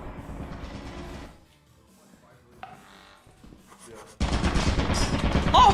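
Turret gunfire in the video game Lethal Company, rapid continuous bursts of fire that start, drop away into a quieter stretch, then return loud and sustained with a sharp onset near the end.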